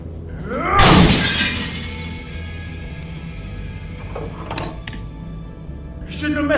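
Glass shatters loudly in The Wolf Among Us video game as things get smashed, one big crash near the start followed by scattered smaller clinks and debris under low background noise.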